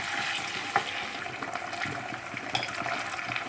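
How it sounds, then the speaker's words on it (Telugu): Onions frying in a pan for chicken fry, a steady close sizzle with occasional stirring scrapes and small pops, continuous and fairly loud with no voices. "బాగా చక్కగా గోల్డెన్ బ్రౌన్ వచ్చే వరకు వేయించుకోవాలి ఆనియన్స్ని"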